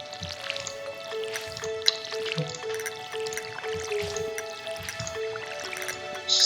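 Small watery splashes and drips fall in quick bursts as parsnip seeds are watered in Stardew Valley, set against a light, steady background melody.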